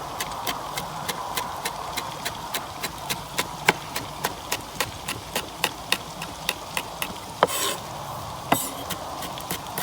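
A knife chops chilli pepper on a cutting board in a kitchen, with steady, evenly spaced sharp taps repeating rapidly and close, a few louder strokes standing out near the end.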